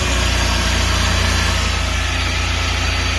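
A Suzuki Super Carry mini truck engine runs on high idle with the choke on, giving a loud, steady, close-up rumble with a fast, even pulse and no talking.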